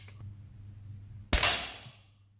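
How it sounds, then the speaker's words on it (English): A single sharp crack from an Umarex Legends Luger P08 air pistol breaks a quiet room, loud and near, with a brief metallic ring fading after it. "I think I'll fire all 10 into this card for starters."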